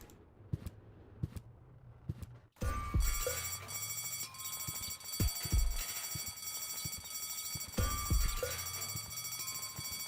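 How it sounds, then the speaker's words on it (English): Alarms blare in the video game Deponia, starting abruptly after a few sparse clicks and then ringing continuously in a dense, high electronic wail mixed with intermittent thumps until the end. "All their alarms are going off."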